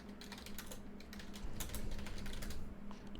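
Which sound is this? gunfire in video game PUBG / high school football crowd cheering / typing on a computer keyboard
typing on a computer keyboard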